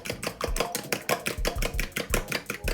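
Eggs with salt and black pepper being whisked briskly in a bowl for a bacon, egg and cheese quesadilla, a steady run of quick, evenly spaced strokes, close and fairly loud, with no talking.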